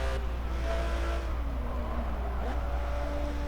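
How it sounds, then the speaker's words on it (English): A Camaro race car cruises fast past the player's car during a Forza Motorsport 7 multiplayer race, its engine note sweeping over a constant low engine drone. "And that's a Camaro. He just cruises past me really fast."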